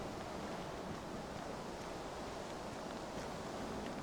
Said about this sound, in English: ocean breeze going on.